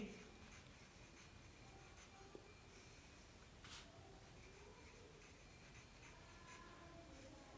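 Pen scratching on paper while numbers are written out by hand in a math workbook, a faint, steady scratchy texture close up, with soft scattered ticks and no talk.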